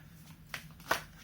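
Tarot cards are shuffled and one is pulled, two brief, soft papery riffles heard close in a quiet room.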